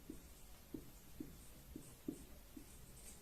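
A pen or chalk taps and scratches out a handful of short, evenly spaced strokes during a maths lesson on polynomial zeros, faint and close, with a quiet background hum and no talk.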